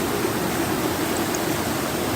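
Stream water rushes steadily and loudly in a continuous, even broadband wash up close, with no breaks and no talking.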